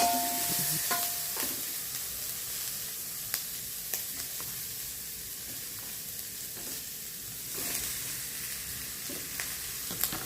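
Spices with lemongrass, bay leaves and bilimbi being stirred in a hot pan, a steady sizzle broken by repeated scraping strokes of the spoon, close and fairly quiet with no talking.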